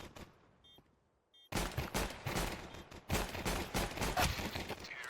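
Rapid gunfire in the video game Counter-Strike 2 during a BIG vs ESC match: a few faint shots, then dense bursts of automatic fire and overlapping shots that continue loud and steady for several seconds.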